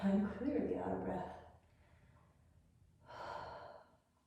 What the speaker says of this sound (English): I'm clearly out of breath